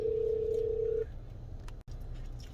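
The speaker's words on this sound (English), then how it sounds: "so my phone rang again" A phone gives a single steady electronic tone lasting about a second before cutting off, followed by quiet room hiss.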